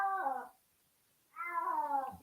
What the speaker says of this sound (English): Stupid cat.